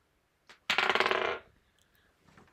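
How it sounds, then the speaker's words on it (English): Dice rolled during a live cross-stitch session, a short clattering rattle on a hard surface lasting under a second, preceded by a faint tap, in an otherwise quiet room. "let's roll the dice, let's not forget"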